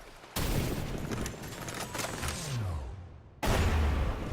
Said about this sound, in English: But the big addition here was the scavenger.